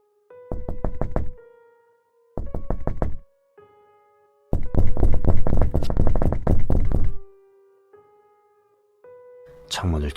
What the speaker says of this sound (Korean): 창문을 두드리고 있었으니까요